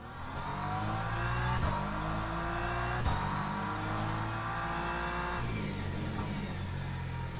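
A race car in Le Mans Ultimate rolls down the pit lane at Portimao with a steady, loud engine drone and shifting revs, the note rising and dipping close by and no voices over it.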